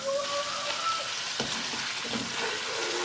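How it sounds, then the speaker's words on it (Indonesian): Squid frying in hot oil in a wok, a steady loud sizzle and crackle with a brief stirring scrape midway, close up and uninterrupted by speech. "Kalau misalnya sudah panas, kita mau goreng terlebih dahulu cuminya"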